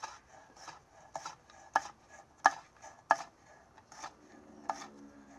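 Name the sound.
knife slicing jalapenos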